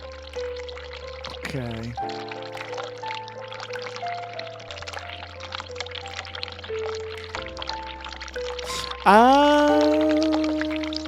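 Hot water running in a bathroom in the video game The Cat Lady, a steady pouring stream under droning game music, turning louder and fuller near the end, with a few brief spoken words over it.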